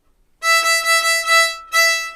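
A violin bowed on the open E string, a steady bright tone with strong upper harmonics, sustained across a few bow strokes, then a short break and a fresh stroke, played close and alone.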